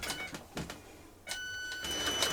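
An industrial cylinder arm sewing machine stitching the base into a bag made from a shrunken jumper: a few short mechanical bursts, then a steadier whirring run with a faint whine, close and fairly quiet, with no talking.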